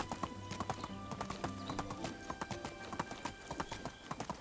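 A donkey's hooves clip-clop in quick, steady rhythm in the medieval video game Medieval Dynasty, crisp repeated clops close up over a soft ambient music bed.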